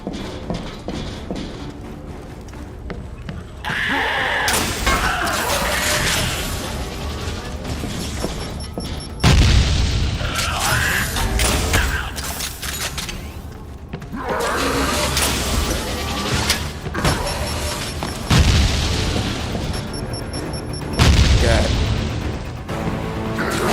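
Rapid bursts of video game gunfire crack and boom repeatedly over a busy, loud mix of game sounds while a player occasionally talks, at a fast fire rate.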